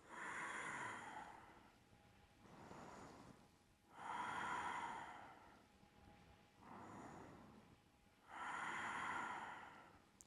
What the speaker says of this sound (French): Respire ici.